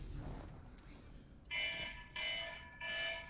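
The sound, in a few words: wake-up alarm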